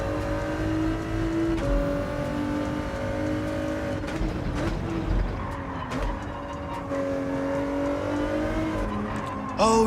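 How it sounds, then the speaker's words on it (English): A race car's engine drones steadily in a racing video game while it spins out, with a faint tire squeal and shifting revs running close and loud for the whole stretch. "Oh, he spun out."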